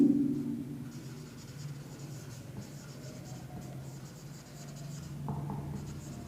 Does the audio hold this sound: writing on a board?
yes